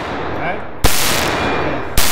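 Two loud, sharp pistol shots from a Glock on a shooting range, about a second apart, each a sudden blast that rings out into a dense roar over noisy surroundings.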